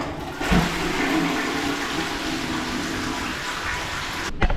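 Water runs steadily into Saddam Hussein's sink as hands are washed, a loud, continuous close rushing that lasts about four seconds and then cuts off.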